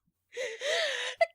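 A performer's acted gasp for the Duchess in a dramatized Alice in Wonderland reading: a single breathy, drawn-in gasp rising in pitch, followed by a short sharp catch, close and alone.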